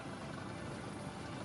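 An AS-565 Panther helicopter flies during a naval vertical replenishment display, its steady rotor and engine drone sitting at a constant, fairly distant level with no other sounds.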